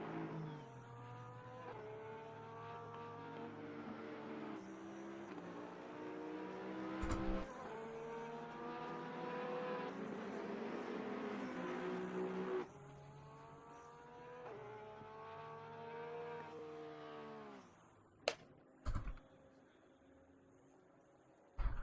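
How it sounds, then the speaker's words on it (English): Race cars in Assetto Corsa Competizione stream past one after another at Laguna Seca, engines droning and shifting through gears for a sustained stretch before the pack thins out, with a few sharp bursts near the end. "And now the rest of the cars coming through."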